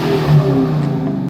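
A Dodge Challenger Scat Pack with a manual gearbox revs its engine in a steady, loud mid-pitched roar that swells briefly, heard alone at close range.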